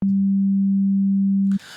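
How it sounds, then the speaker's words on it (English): A pure 200 Hz sine tone from the Serum synthesizer holds loud and perfectly steady for about one and a half seconds, then cuts off into faint noise. "We're playing this note here, which is approximately, say, 200 hertz"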